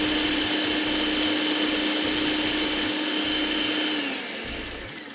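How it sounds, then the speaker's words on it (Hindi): An electric grinder whirs loudly and steadily as it grinds dry char magaz seeds, with a constant motor drone and a rattling pulse from the blades, then winds down near the end. "चलिए इसको पहले हम पीस देते हैं ड्राई फॉर्म में, अच्छा सा ज़रा मिक्स हो जाएगा।"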